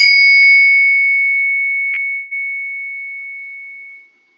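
Two bright bell-like chime strikes, the second landing while the first still rings, one long clear tone fading away over several seconds, alone and near.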